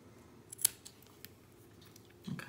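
Scissors snip cotton wick at the O-ring of an Asmodus Dawg RTA atomizer, giving one sharp close cut followed by faint handling clicks and a soft rustle at the end, with no talking.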